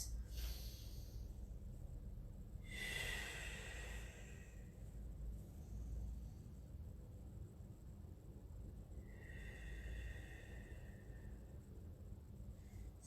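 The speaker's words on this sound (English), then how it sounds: "Nice deep breaths." Slow, deep breaths drawn in during a Pilates stretch, two soft, airy whooshes several seconds apart, close and quiet over a low steady background.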